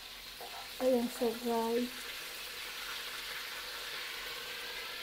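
Marinated milkfish (daing bangus) frying in hot oil, a steady broadband sizzle and splatter running the whole time, with a voice talking briefly over it near the start.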